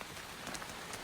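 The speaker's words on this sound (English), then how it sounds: "It won't rain all day." Steady rain patters on a surface as a broad, even wash of drops with no voices.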